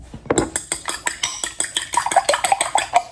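Egg being beaten for macaroons in a bowl, a steady rhythmic clatter of a utensil striking the sides roughly every quarter second, close and fairly loud with bright clinks, no voices.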